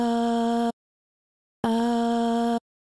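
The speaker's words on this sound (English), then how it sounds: "a sample, a vocal single A. If I wouldn't have anything on it, it would sound like this." A dry, unprocessed vocal sample sings a single sustained A note, heard twice as steady held tones of under a second each, separated by a short silence, close and clear with no other sound.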